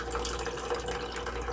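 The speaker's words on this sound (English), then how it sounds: "Just dump that water in there" Water poured out of a container into another vessel, a continuous splashing, gurgling wash, close and fairly even throughout with no speech.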